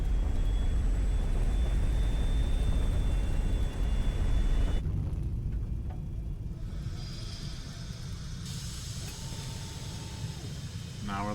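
A fleet of aircraft descends to land in the game Highfleet, a steady, loud engine rumble and whir that thins and shifts in tone partway through as the ships drop lower.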